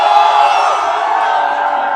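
A dense crowd of protesters outside Jantar Mantar in Delhi, a loud, close wash of many voices with shouts and calls blending into one continuous roar.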